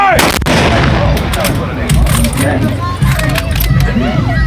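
Rifle volleys from German weapons fired by historical reenactors at an outdoor iron festival, sharp distant cracks ringing out over crowd murmur and a voice calling the count.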